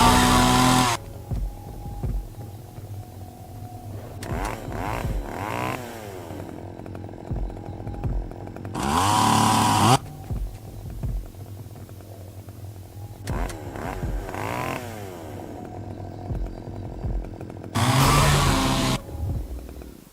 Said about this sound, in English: This chainsaw is electric.